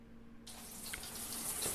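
Shower water starts with a sudden broadband rush and keeps pouring steadily at close range, with a low hum running underneath and a brief knock right at the end.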